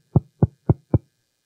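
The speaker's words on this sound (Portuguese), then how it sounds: "Tem um vendedor batendo a porta." Four firm knocks on a door, evenly spaced about a quarter second apart, close and distinct with silence between.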